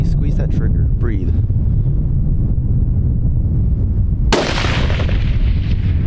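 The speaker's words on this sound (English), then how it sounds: "You shot right over her." A single loud rifle shot fired at a whitetail deer on a hunt, an abrupt booming crack with a long decaying rumble, over steady wind noise after a few faint whispered words.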